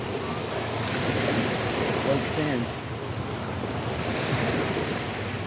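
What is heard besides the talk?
ocean waves at high tide on Fort Myers Beach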